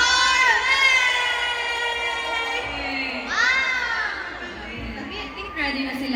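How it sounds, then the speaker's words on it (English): Screams and cheers from a concert crowd at a show, a dense sustained roar of high-pitched shrieking voices that swells in waves, loud and continuous. "Guys, we appreciate the energy, all the screams, the cheers."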